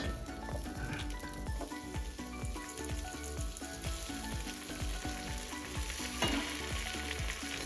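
Chopped vegetables and masala for a chicken fry dum biryani sizzle in hot oil with a steady broadband crackle, partly under rhythmic background music with plucked notes.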